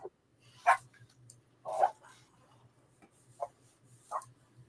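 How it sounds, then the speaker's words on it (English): A dog barks in several short, separate bursts about a second apart, moderately close, with a faint low hum underneath and no talk. "go bark your head off"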